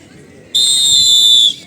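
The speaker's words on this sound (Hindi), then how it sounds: "बज गई सीटी।" A referee's whistle at a girls' kabaddi semifinal, one loud, shrill, steady blast of about a second, sounding over faint crowd murmur.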